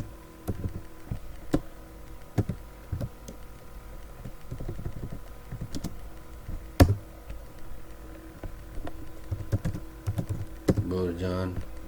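Keys clack on a computer keyboard in irregular bursts of taps, close and moderately loud, while a person talks over the typing at times.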